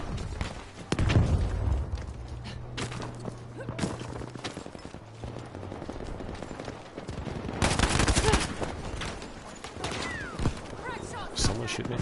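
Gunfire in Battlefield 5, with scattered shots and bursts of automatic fire mixed with game effects, moderately loud and busy, under a player's intermittent talk.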